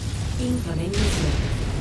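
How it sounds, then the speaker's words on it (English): An incoming missile blasts in the MechWarrior 5 mech combat game, a loud low booming rumble that fills the clip, with a voice talking over it. "Incoming missile."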